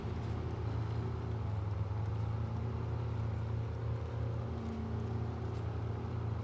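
Steady low engine drone from a civilian-redesigned military truck in SnowRunner, a continuous heavy rumble with faint tonal hum, held at constant level without talk.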